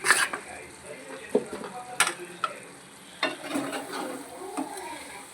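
Chilli powder going into a hot frying pan with tomato and drumstick pieces, stirred with a spoon: a steady sizzle broken by scraping strokes and sharp clinks of metal on the pan, close by.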